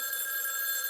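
A telephone bell rings steadily and loudly, a bright sustained electronic ringing that fills the whole moment with no voices over it.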